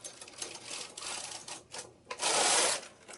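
A knitting machine carriage slides across the needle bed to knit a single row, giving a close, rattling mechanical whir that swells into a louder sweep near the end.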